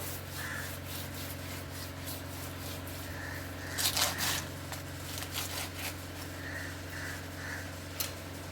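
Fish being rubbed by hand to strip off leftover scales after knife cleaning, soft repeated scraping and rubbing strokes over a steady low hum, with a cluster of louder scrubs midway.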